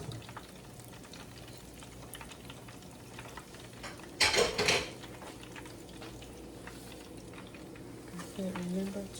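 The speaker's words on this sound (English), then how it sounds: "I am frying salmon" Salmon balls fry in hot grease in a pot, giving a continuous crackling sizzle with a loud burst of stirring or scraping near the middle and soft clinks toward the end.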